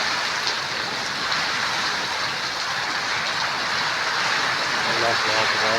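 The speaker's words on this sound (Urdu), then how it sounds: "یہ آواز سنو، ایک اندھاری کی آواز ہے، شور ہے، نال بارش ہے" A strong windstorm roars steadily with heavy rain pounding down outdoors in Layyah, a dense, unbroken wash of noise that stays loud throughout.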